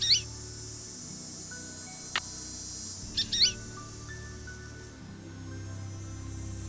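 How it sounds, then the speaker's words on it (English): Bird calls in the Nancy Drew: Ghost Dogs of Moon Lake video game, a few short high chirps scattered over several seconds above a low, steady ambient hum, no voices. "so we got a yellow bird"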